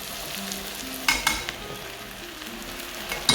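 Bread fries with onion in a pan, a steady low sizzle with a few clinks and scrapes of stirring, fairly quiet and close, with no talk.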